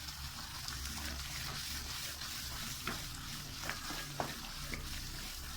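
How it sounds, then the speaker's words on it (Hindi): Chicken and spices sizzling as they are stirred over high heat in a pan, a steady close-up frying hiss with occasional scrape and clink of the spoon, no talking. "देखिए मैं अच्छे तरीके से इसकी बुनाई कर रहा हूँ तेज़ आंच पे, ऐसे हम इसे भूनते रहेंगे।"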